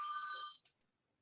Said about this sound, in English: I'm sorry, I didn't turn my phone off.